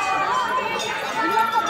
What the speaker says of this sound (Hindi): मंदिर के चारों ओर देखिए भीड़ का दृश्य दिखेगा।